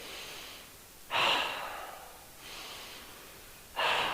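Two strong, airy breaths in an exercise class, each a sharp loud inhale-exhale rising suddenly and fading over about a second, with quieter breathing in between, no talk.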